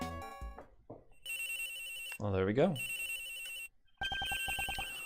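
An electronic phone ringtone chimes in the Ace Attorney Investigations: Miles Edgeworth video game, sounding loud and steady in repeated bursts with short gaps, while a voice talks briefly at the start.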